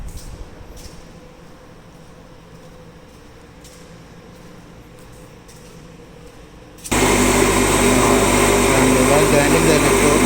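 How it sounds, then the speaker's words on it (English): A bench grinding machine spins up loudly after a quiet stretch, its steady broadband whine taking over as a tungsten TIG electrode is sharpened for titanium welding. "we need to bring this electrode to our grinding machine"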